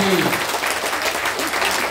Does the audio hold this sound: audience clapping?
yes